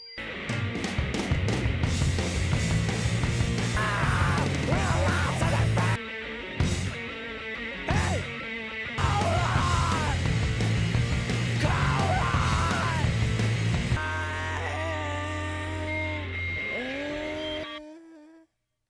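A song plays loud and distorted, with raw screamed vocals over driving guitars and drums before the track breaks down into feedback and fades out at the end.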